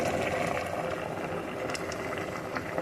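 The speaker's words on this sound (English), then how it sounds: "I'm going to let it simmer down to a thick consistency" A pot of soaked peas simmers on the stove as it cooks down, giving off a steady bubbling, hissing wash of sound at close range with no break.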